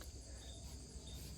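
Steady, faint insect buzzing, probably a bald-faced hornet, droning continuously outdoors near a farm tractor area, with no voices over it.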